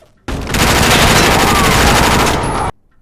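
Sustained automatic machine gun fire from the Quantum of Solace video game: one dense, loud burst of rapid shots lasting about two and a half seconds, abrupt at both ends, with no voices.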